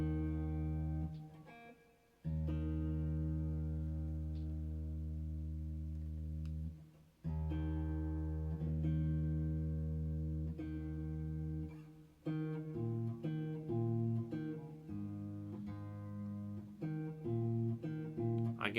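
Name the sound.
guitar D string played flat while tuning by ear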